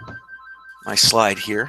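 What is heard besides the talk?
telephone ringing in the background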